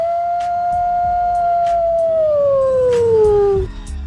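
A wolf howl sound effect: one long, loud, sustained howl that slides slowly downward in pitch and breaks off near the end, with faint higher tones behind it.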